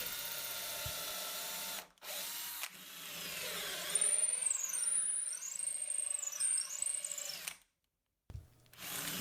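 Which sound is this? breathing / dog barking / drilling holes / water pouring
drilling holes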